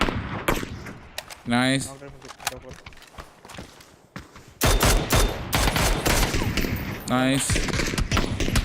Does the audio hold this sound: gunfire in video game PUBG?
yes